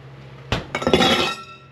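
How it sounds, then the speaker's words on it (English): Ice cubes dropped into a free QuikTrip cup, giving a sudden clatter of several cubes striking and clinking against each other and the cup, then settling. "put some ice cubes in there"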